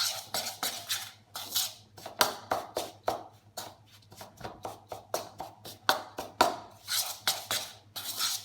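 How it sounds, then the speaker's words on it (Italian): A ricotta and pear cake batter of eggs, butter and vanilla is worked in a bowl, giving a steady run of close, sharp clinks and taps of utensil against the bowl, heard alone. "Mescolo bene in maniera che vanno ad amalgamarsi perfettamente."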